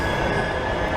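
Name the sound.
Manchester Metrolink tram arriving at Piccadilly station platform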